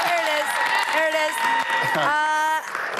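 A television studio audience claps and whoops for a guest, UFC president Dana White, with loud sustained applause and cheering under and alongside a voice speaking over it.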